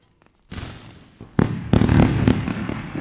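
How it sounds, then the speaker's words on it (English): Fireworks sound effect on a livestream: a burst of crackling bangs and booms that starts after a short silence and builds into dense, loud popping explosions. "We're gonna grab a round of fireworks."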